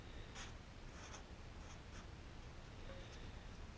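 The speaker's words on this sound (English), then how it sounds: "And I'm going to write it here too, just in case that gets worn off." A pen scratches out a number on a part from a 1966 Ford Galaxie 500 convertible, a few quick rasping strokes over a steady hiss of room noise.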